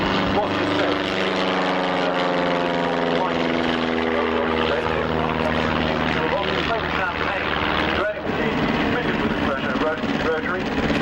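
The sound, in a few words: triplane aircraft engine at airshow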